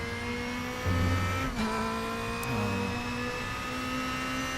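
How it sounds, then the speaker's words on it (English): A BMW M4 DTM race car engine in a simulated endurance race at the Nürburgring hums steadily at close range, its pitch stepping up and down with gear changes and throttle. "We're driving the BMW M4."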